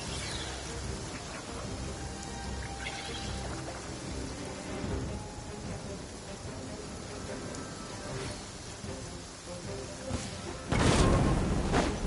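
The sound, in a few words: thunder and rain in a video game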